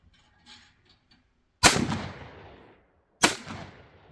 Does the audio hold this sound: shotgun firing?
yes